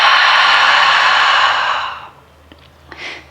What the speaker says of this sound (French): Si vous souhaitez pratiquer la respiration Ujjayi, imaginez que vous faites de la buée sur un miroir.